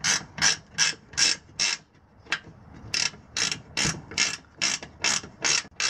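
Ratchet strap being tightened on a Harbor Freight trailer during a deck replacement, with about a dozen loud, rhythmic ratcheting cranks in quick succession and a brief pause midway.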